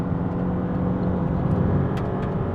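A 2022 Maserati MC20 circulating Phillip Island track, a steady, full engine drone and road roar held throughout with no talk.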